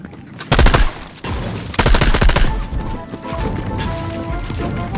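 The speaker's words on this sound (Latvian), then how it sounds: "Kāds kaut kur tālumā šaudās." Gunfire in the video game Fortnite: two loud bursts of rapid shots, then a quieter stretch of softer crackling shots over a background rumble.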